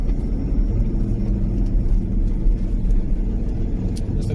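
Old Land Rover on BF Goodrich tyres driving along, a steady low engine and road rumble heard from inside with no talking.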